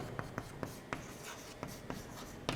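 Chalk or marker taps and strokes on a board during a physics lecture, a rhythmic series of short sharp clicks and scratches, fairly faint, with no talk.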